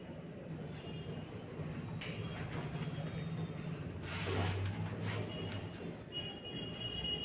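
Hairspray being sprayed while styling hair makes a sharp close hiss at about the middle of the clip, with a short earlier puff and faint background noise.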